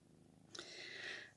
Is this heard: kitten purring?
yes